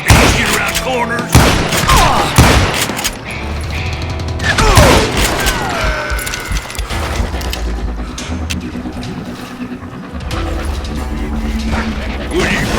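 Gunfire in the Western shooter Call of Juarez Gunslinger: loud close shots in bursts with booming impacts and mechanical clatter, under a voice talking.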